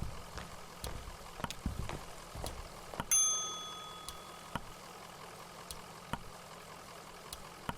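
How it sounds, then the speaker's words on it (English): A reception desk bell rung once in Kentucky Route Zero, a single clear metallic ding that rings out and fades over a second or two, set against quiet ambient hum and scattered soft clicks. "So let's ring the bell at the reception desk."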